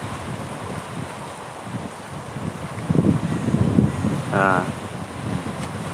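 Strong wind sweeps across open ground on Pulo Nasi island, making a steady broadband roar and buffeting the microphone, with a brief voice near the end.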